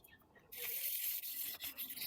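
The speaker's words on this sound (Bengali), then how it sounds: "স্টিল উল দিয়ে ঘষতে হবে আপনাকে" Steady, close rasping scrub of steel wool worked with Vim liquid across a worn nonstick pan, starting after a brief quiet moment and continuing with slight rhythmic breaks.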